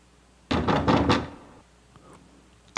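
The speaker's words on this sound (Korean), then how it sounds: "다급하게 문을 두드리는 소리가 들리는 겁니다" Urgent knocking on a wooden door: a quick burst of about four or five heavy, hurried thumps up close, then a faint tap and a sudden loud knock right at the end.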